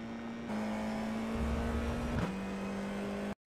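Formula IR-04 race car engine at Interlagos in the iRacing game, a steady loud buzzing drone that holds one pitch, then shifts gear and carries on before cutting off abruptly, with no talk.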